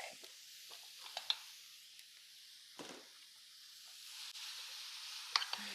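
Ground meat sizzles in a pan, a steady soft hiss with faint crackles and a few small pops, fairly quiet and uninterrupted by talk.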